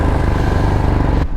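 Royal Enfield Himalayan motorcycle engine thrumming steadily while riding, loud and close with a regular low pulse, cutting off abruptly near the end.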